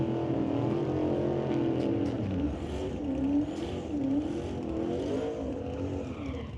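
Limited Street drag race cars roar head-to-head down the strip, with loud engines revving and droning together, pitch rising and wavering as they accelerate, heard from nearby.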